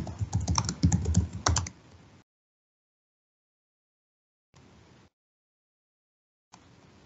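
Computer keyboard typing in a quick burst of close, clicky keystrokes, followed by silence and then two short, isolated taps such as presses of the enter key.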